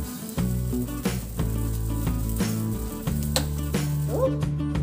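Jowar grains boiling in a pot of water, with a steady bubbling hiss that runs through the whole stretch beneath a continuous tonal music bed.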